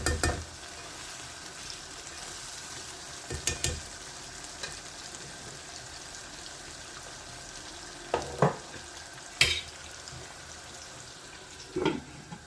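Aubergine masala sizzles in a pan after water is added, a steady frying hiss broken by several louder bursts of stirring and clatter, close with no talking.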